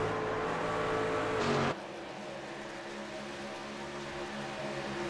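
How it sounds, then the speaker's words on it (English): Virtual race cars in a Darlington stock-car video game drone past in a steady engine roar, a dense tonal wash that drops abruptly to a quieter continuous hum partway through, with faint commentary underneath. "And there's just a long line of cars here."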